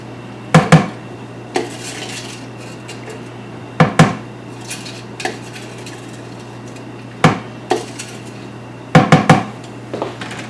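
A small spatula knocks and scrapes against a small food processor bowl while salsa is being cleared out, giving sharp clustered clacks and taps at irregular intervals over a low steady hum, with no talk.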